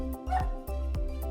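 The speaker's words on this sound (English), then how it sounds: "there must be a dog outside" A dog barking outside, a few short yips and barks in quick succession, moderately loud, heard alone without talk.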